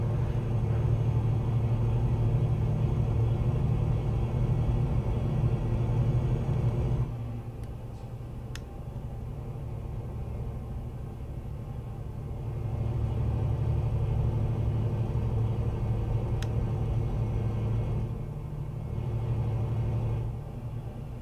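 A heavy truck engine in Euro Truck Simulator 2 rumbles in a low steady drone, loud at first, easing off for a stretch, then swelling back, with no talking over it.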